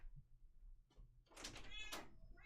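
A house cat giving a couple of short, close meows over a quiet room with faint background noise.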